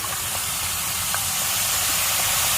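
Soy sauce sizzles in a hot pan, a steady loud hiss of steam and frying with small crackles scattered through it.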